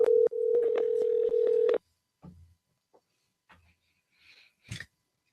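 A telephone keypad dials out to reach a woman named Pam, a steady run of touch-tone beeps in quick succession, followed by a few faint clicks and rustles as the line connects.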